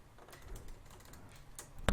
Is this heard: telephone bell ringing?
no